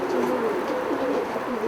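A city pigeon coos steadily at its nest, a soft, continuous low burble that stays close and fairly loud for the whole moment, with no one talking.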